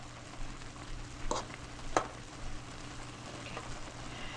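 A pasta fork scrapes and stirs through ramen noodles in a pot, breaking them apart with soft, irregular clinks and swishes over a faint background hum, quiet and close.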